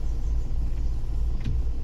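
A car engine rumbles low and steady as the car begins to creep forward in first gear, a close, even drone with no voices over it.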